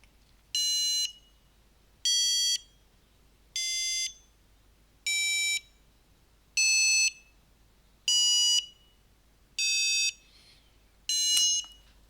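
An mBot robot's buzzer plays a musical scale, eight clear electronic tones rising step by step, each held about half a second with short gaps between, loud and alone in a quiet room.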